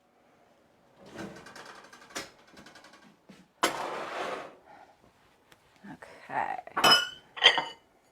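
Pan of portabella mushrooms pulled from an oven, with metal clanks, dish clinks and rattling in a kitchen, sharp knocks near the end, and a brief spoken word at the start.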